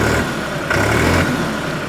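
A New Holland 5510 Excel 4wd tractor diesel engine idles at around 700 to 800 rpm with a steady low rumble and even throb, close and continuous.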